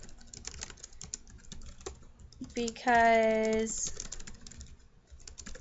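Computer keys clatter in light, irregular taps while someone talks over them, with a short rising electronic tone sounding midway through.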